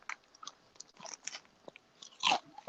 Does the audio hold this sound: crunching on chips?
yes